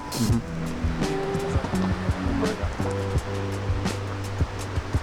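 A river flowing below a mountain trail on the Posets circuit, a steady close rushing of water with broadband churning noise throughout, no voices.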